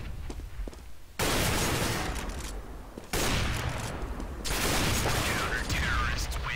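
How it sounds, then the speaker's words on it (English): Quick no-scope sniper shots in a Counter-Strike match on de_season, loud sudden gunshot bursts that cut in abruptly and ring out, separated by quieter stretches with light clicks and footsteps. "those quick shots, trying to get that no-scope and get the pick"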